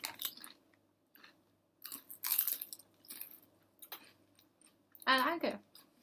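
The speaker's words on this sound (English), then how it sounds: "This makes you feel like you are chewing a soda drink" Crunchy chewing of a soda-flavored Chinese snack, close and fairly quiet, coming in several short bursts with a louder crunch near the end.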